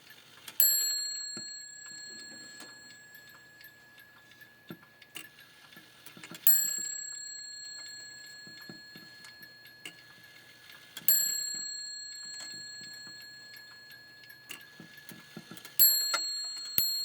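Four resonant chimes from a Japy Freres / Tiffany & Co. French mantle clock ring out at regular intervals, each strike decaying slowly, with soft mechanical ticking and faint handling noises in between.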